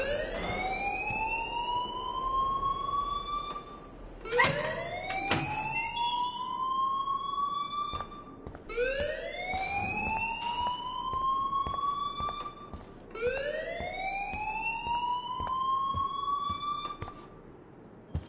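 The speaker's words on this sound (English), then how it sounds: "please turn off that alarm since that's your job" A rising, wailing electronic alarm cycles four times in the game Life is Strange, each sweep climbing in pitch then cutting off before repeating, loud and alone without talk.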